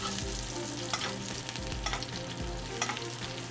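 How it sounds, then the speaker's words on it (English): Scallops sizzling in a pan while butter is basted over their tops, a continuous close frying hiss with light spoon clinks and a low rhythmic hum underneath, no voices. "I'm going to grab this butter, and I'm going to baste the tops of these scallops like this"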